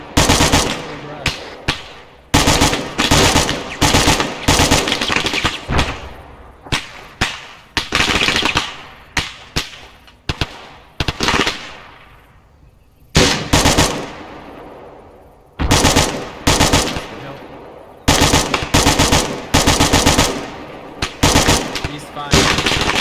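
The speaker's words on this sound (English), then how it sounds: "We are returning fire." Sustained video-game firefight with recruits under fire: dense bursts of automatic gunfire and sharp shots in repeated volleys, loud and close, separated by brief gaps, with occasional voices talking between bursts.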